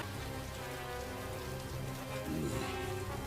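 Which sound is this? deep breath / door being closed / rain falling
rain falling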